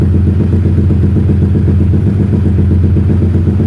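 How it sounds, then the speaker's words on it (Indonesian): An injected roadrace motorcycle engine starts and idles steadily, loud and close, with a dense low throbbing rumble and a faint mechanical clatter throughout, no voices. "Terus di sini kita tinggal nyalain dulu motornya"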